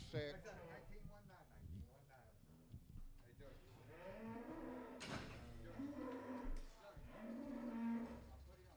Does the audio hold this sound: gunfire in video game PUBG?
no